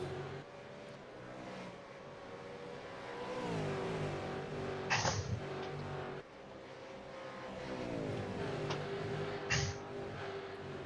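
V8 Supercars racing around Bathurst in a sim racing game, engines droning and shifting gears steadily with rising and falling pitch, plus two short sharp bursts as cars brush the wall.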